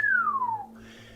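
A person imitates a low whistle for a tabletop fantasy game: one clean, falling whistle tone lasting about half a second, close and alone, before a quiet hum remains.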